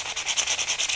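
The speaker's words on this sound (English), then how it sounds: "I give everything a sand" Very fine sandpaper rubs over grog-filled clay pottery in quick, even back-and-forth strokes, a close, bright scratchy hiss pulsing about ten times in a second.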